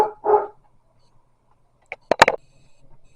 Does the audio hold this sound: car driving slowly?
no